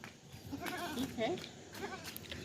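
A household goat bleats several times in short wavering calls at moderate distance, amid faint background sounds at home.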